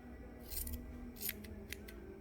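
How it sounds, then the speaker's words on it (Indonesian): Scissors snip through the tail of a paper unicorn craft, three or four quick crisp cuts close by over quiet background noise. "lalu tinggal gunting"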